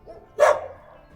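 A single sharp dog bark rings out near a lake, loud and brief with a short tail, against a quiet background with faint low rumble.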